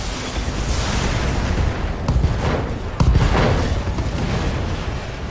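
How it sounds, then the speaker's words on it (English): Mech weapons firing a full salvo in the BattleTech video game, with a Highlander mech in the fight: a continuous, dense roar of gunfire and blasts, with a sharp louder burst near the middle, all without talk. "Firing full complement on end."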